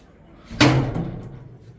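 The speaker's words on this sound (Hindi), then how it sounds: "चलिए दरवाजा खोलते हैं।" A house door opening with one firm knock-like thud followed by a short fading rattle and creak, heard on its own at close range.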